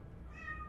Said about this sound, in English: my cat is screaming right now